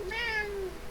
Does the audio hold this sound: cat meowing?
yes